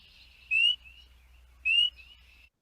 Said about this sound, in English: So that is our spring peeper.